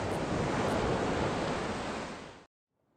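Ocean waves from the Grandia 2 video game wash as a steady, full broadband surf roar, loud and unbroken, that cuts off abruptly before a brief silence at the end.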